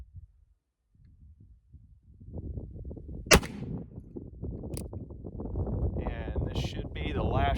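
A Pietta 1860 Army revolver fires a single shot loaded with a paper cartridge, one sharp crack midway through, set against outdoor rumble and wind-like noise.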